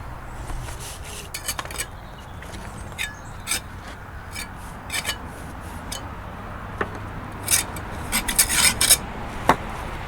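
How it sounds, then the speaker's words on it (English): A rubber tool rubbed along a fresh brick mortar joint on a canal lock bywash to make it flush, heard as steady close rasping and scraping with sharper gritty scrapes building toward the end. "when it's pointed up, I use a rubber to rub the joint so that it's even more flush"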